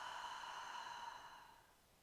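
A slow, steady exhale during a hypopressive pelvic floor exercise, a soft airy breath that holds evenly and then fades away over about two seconds, close and quiet with no talking.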